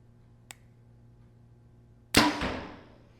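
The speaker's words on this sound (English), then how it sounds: "My arrow rest is slapping on the shelf a little bit, so I think there's a little more noise than you might expect otherwise" A single shot from an Obsession Ultra Mag 360 compound bow: a faint early click, then a sharp loud release with a brief rattle as the arrow rest slaps the shelf, decaying over about a second.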